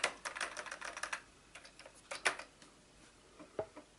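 Key presses on an Atari 520 STE home computer keyboard during a restoration test: bursts of quick clicking keystrokes, a rapid cluster early on, then scattered single taps with pauses, close and fairly quiet.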